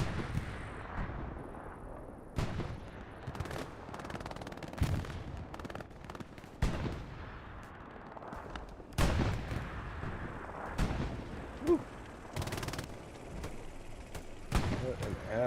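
Machine gun bursts and explosions from the World War II shooter Hell Let Loose, with sharp repeated gunfire cracks and heavy booming blasts at irregular intervals, some close and loud, others distant, under a commentator's voice.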